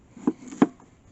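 An oversized, dull knife cuts through a blue potato in two quick, dull thunks about a third of a second apart, faint and close by.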